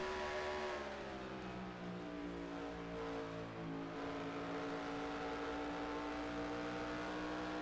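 A race car engine in a racing video game hums with a steady, slightly falling whine, moderately loud and unbroken with no voices.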